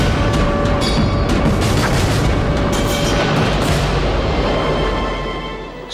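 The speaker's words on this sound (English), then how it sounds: "The Germans sailed right into the impressive British squadron, which opened fire with all its might." Naval guns of a British squadron opening fire on German warships, a sustained heavy roar of booming blasts and rumble, loud and dense throughout, easing slightly at the end.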